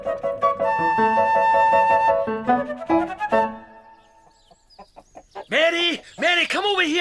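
A chicken clucks and squawks loudly and close by in a farmyard, its excited rhythmic calls following a stretch of bright orchestral music that fades into near silence.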